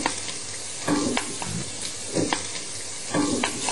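A spatula scrapes and stirs vegan ham sautéing in a pan, three distinct stirring strokes spaced a second or so apart over a steady low sizzle, close and clear.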